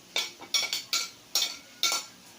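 A spoon stirs carrots into cooked pork giniling in a pan, six distinct close scraping strokes in a loose rhythm against the pan, with no talking.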